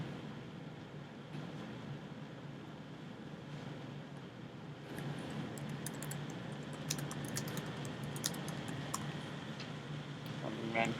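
Typing on a computer keyboard, a fast run of light clicky keystrokes that grows busier partway through, set against a steady background hum.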